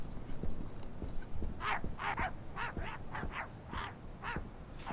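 A dog in a video game barks in a rapid series of short yips and woofs over a soft background of footsteps or clopping, fairly close and with no speech.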